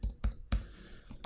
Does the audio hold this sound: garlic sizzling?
no